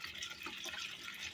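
Liquid sloshes around with metal chips in a container while stethoscope material is filtered for gold. The swirling and splashing is soft, continuous and close, with no talk.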